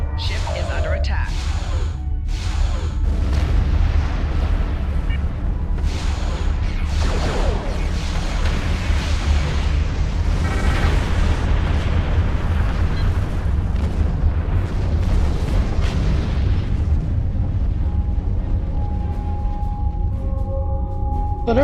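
Explosions and heavy blasts batter a ship under attack in the space combat game Star Trek Online, a dense, continuous rumble of booms layered with a repeated computer warning voice and alarm tones.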